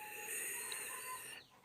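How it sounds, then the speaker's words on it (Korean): Chickens crow at dawn with a sustained, high, quavering call that holds steady before trailing off. The sound is fairly distant and faint over a quiet background, with no talking. "닭들이 지금 심하게 짖고 있습니다"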